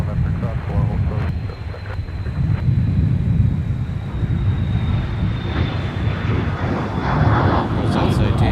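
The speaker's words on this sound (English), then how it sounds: "There's jets all over the place." Jet airplanes rumble around Minneapolis–St. Paul airport, a steady broad roar with wind buffeting the microphone and a faint high engine whine drifting across, heard from a distance.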